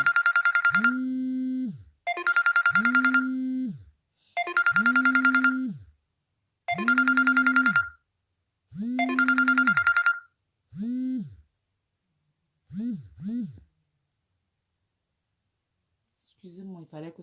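A phone ringtone rings loudly through an incoming call during a live stream, five bright repeating bursts followed by fainter cut-off pulses, then silence and a brief rustle.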